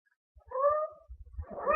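A cat meows twice in a quiet indoor setting, a short clear cry followed by a rising, more strained meow, close by, with faint low thumps underneath.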